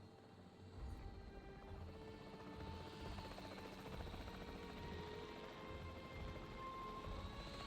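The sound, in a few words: capture team helicopter in Jurassic World Evolution 3 video game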